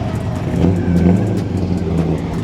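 A drift car at a charity drift event at Apple Valley Speedway accelerates onto the track with a loud, close engine rising in pitch and a steady rumbling drone, with no talking.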